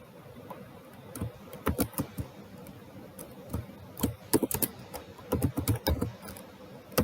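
Code being typed on a computer keyboard, with soft irregular clacks and short bursts of keystrokes up close over quiet room tone.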